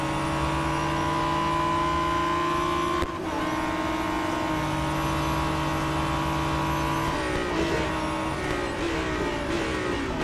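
Race car engines in Real Racing 3 drone at high revs as cars jostle to overtake. One engine tone holds steady, then briefly dips and shifts around a gear change. A loud, continuous mechanical whine with no talk.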